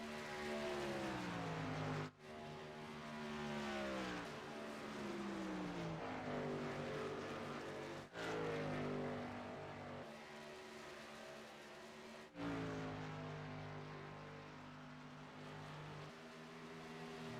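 Race trucks roar around a paved oval in the Eichstadt Wraps 300, their engines droning loud and steady with rising and falling pitch as they pass close by, broken by a few sharp shifts.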